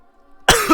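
A single sharp cough bursts out after a quiet lead-in with faint tonal background music, from someone who has just choked on something, followed by a brief throat-clearing tail.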